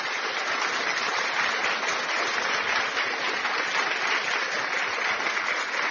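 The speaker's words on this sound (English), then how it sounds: "They deserve a hand clap." A burst of continuous hand clapping from a group, steady and fairly close, with no voices over it.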